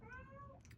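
A pet cat gives one short meow, a faint, brief harmonic cry that tapers off, heard alone in a quiet room.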